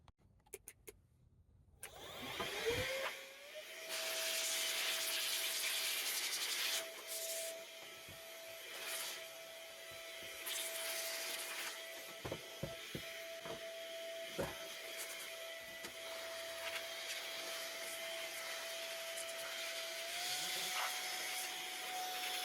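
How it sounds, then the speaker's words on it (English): A duster blows dust out of a computer case as a steady, whining rush runs for about twenty seconds, broken by a few short clicks and bumps. "So let's grab that duster."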